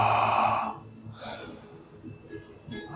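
One long, deep breath is let out slowly through the mouth, close and breathy, and it fades into quiet room tone.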